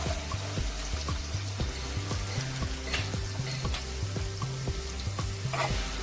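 Onion crackles and hisses in hot oil, with occasional stirring scrapes over the steady sizzle and soft music in the background.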